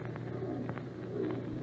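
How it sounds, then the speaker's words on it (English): A screech owl calls in an old radio drama, giving soft, low cooing notes that repeat a few times over a steady background hum. "Yes, that was just an old screech owl."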